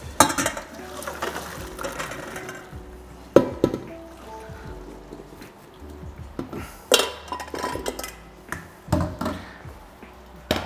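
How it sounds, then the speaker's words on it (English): Potatoes being sieved in a kitchen, with irregular clanks, taps and knocks of metal and cookware scattered over about ten seconds, close and fairly loud. "So now we're going to sieve our potatoes."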